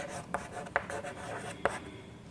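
Chalk or a marker moving across a classroom board during an English lesson: quiet scratchy strokes broken by a few sharp taps, faint against a soft room background.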